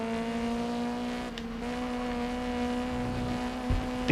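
A touring race car drives in the GRID Legends video game, its engine holding a steady, loud droning note with fairly constant pitch and a slight shift near the end, with no voices over it.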